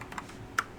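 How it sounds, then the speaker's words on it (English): A few light keystrokes on a Kinesis computer keyboard, close and fairly quiet, with one sharper key click standing out near the end. "I've got this new Kinesis keyboard"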